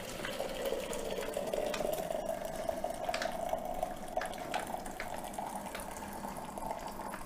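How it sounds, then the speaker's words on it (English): Hot water pours from a flask in a steady, soft trickle that runs quietly and evenly for several seconds with a faint liquid hiss and no talking. "I pour in my hot water."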